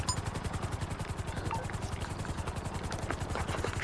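A Sparrow helicopter in GTA Online keeps up a steady, fast rotor chop at close range, loud and continuous with the engine whine droning under it the whole time.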